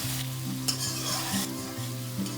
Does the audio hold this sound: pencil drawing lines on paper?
no